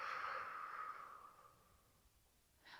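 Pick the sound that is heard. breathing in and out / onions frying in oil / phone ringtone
breathing in and out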